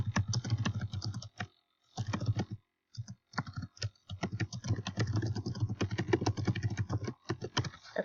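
Typing on a computer keyboard: steady, close, rapid key clicks in continuous bursts with brief pauses between phrases, fairly quiet and with no voices.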